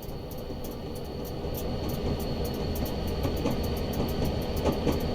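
Western Pacific GP35 diesel freight locomotive from the 1960s rolling past in a train simulator, a steady continuous rumble with faint rhythmic clicks over the rails, moderately loud and unbroken throughout, with no voices.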